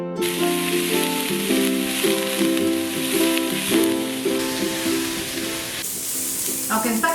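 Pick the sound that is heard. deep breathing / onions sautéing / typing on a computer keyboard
onions sautéing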